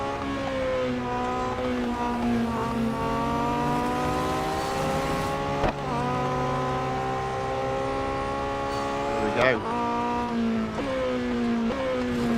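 Speedtail race cars roar through a Real Racing 3 race, their engines holding steady high revs with rising and falling pitch as they shift and overtake, a loud continuous whine with brief tire-squeal moments near the end.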